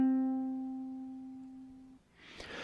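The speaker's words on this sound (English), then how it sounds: "The C string on my ukulele vibrates between the nut and the bridge." An open C string on a ukulele is plucked once and rings with a clear, sustained tone that slowly decays for two seconds before being cut off, followed by a brief rustle.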